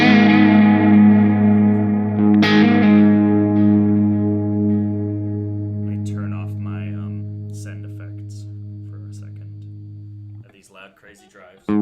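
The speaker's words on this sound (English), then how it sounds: "And then I have a bunch of loud," A live techno rig pushes a sustained, loud synth tone through heavy overdrive distortion with echo, ringing and gradually fading, followed by scattered glitchy bursts near the end.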